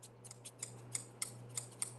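Kokuyo scissors are snipped and handled close by, with a series of sharp, crisp metallic clicks at a brisk, slightly uneven rhythm over a low hum.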